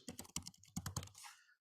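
Rapid, uneven keystrokes on a computer keyboard while a form is filled in, a quick burst of close clicks that ends in a final softer clatter before silence.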